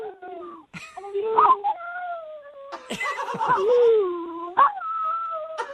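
A dog named Jubal whines and yips in drawn-out, rising and falling cries as a trick, mimicking the phrase 'I love you', while a person speaks nearby.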